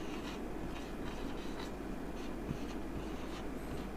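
A pen scratches across paper while a geometry solution about triangle PQR is written out, a steady, close scratching with small pauses between strokes and no speech.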